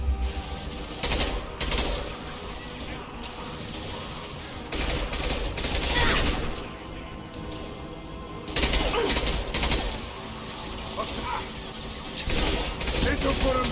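Gunfire during a firefight as Commander Shepard in Mass Effect, with bursts of shots and mechanical clatter recurring in loud waves across the stretch, layered with combat noise and voices.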